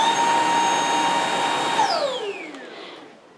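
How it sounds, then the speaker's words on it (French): A cordless stick vacuum cleaner whines steadily with a bright motor tone, close and loud, then spins down as it switches off, the pitch sliding lower and fading out over the last second and a half. "Là, je sais, cet aspirateur, je le sais, là, ça va faire du bruit, mais c'est parce que je veux vous montrer."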